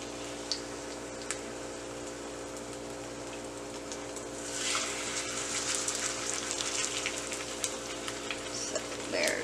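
Lace cornbread fries in hot oil with a steady, close crackling sizzle that grows louder and busier about halfway through, scattered pops over a constant low hum in the background.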